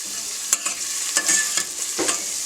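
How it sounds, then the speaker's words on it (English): Finely chopped onions sizzle in a pan for a chicken curry, a steady hissing fry punctuated by several scraping stirs of a spoon against the pan, no voices. "Now I'm going to leave the onions to saute for about 5 minutes on a medium to low heat."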